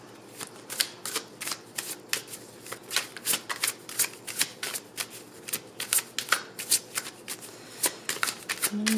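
Oracle cards are shuffled by hand for a tarot reading, producing a steady run of crisp, close riffling flutters in quick rhythmic bursts with no talking.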